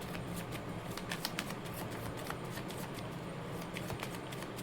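Tarot cards shuffled and drawn by hand, a steady dry riffling and flicking patter with small sharp snaps, close and continuous.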